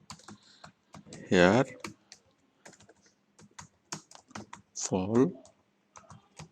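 Someone types on a computer keyboard, and bursts of close, crisp key clicks run throughout. A person speaks between and over the typing.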